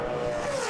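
A NASCAR race car running a qualifying lap in the 2007 Busch Series Orbitz 300 roars steadily, a loud, continuous engine drone with a slowly shifting pitch and no talk.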